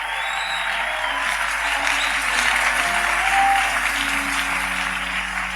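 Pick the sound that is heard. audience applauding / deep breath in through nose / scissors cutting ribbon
audience applauding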